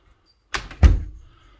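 A door swings shut during a locksmith service call: a soft initial knock followed by a firmer thud of the door closing and latching, close by and alone in a quiet room.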